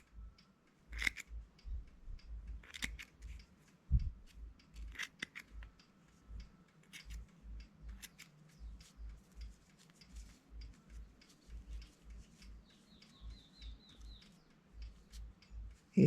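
Scissors snip repeatedly through pompom yarn in quick, steady bursts of crisp cuts, close and fairly loud, with a few sharper clicks and no talking.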